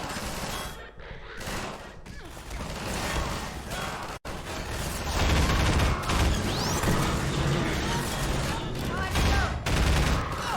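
Plasma ball secondary fire in Half-Life 2, loud and dense with booming bursts and crackling energy, a brief silent dropout midway, then a sustained roaring wash of combat noise.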